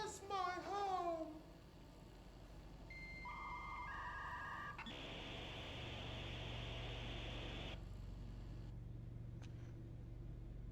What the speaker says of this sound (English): Why were there dial-up modem sounds in there too?